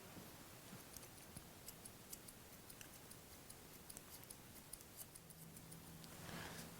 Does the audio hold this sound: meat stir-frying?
no